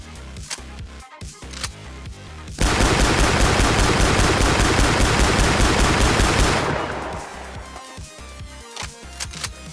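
An AA-12 automatic shotgun in the game Maximum Action fires a sustained burst of about four seconds, loud and rapid, framed by scattered reloading clicks and clacks before and after.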